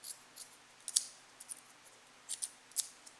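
Scissors snipping filter wool for a DIY aquarium power filter, a series of quiet, crisp cuts spaced unevenly and heard close up over a faint background hiss.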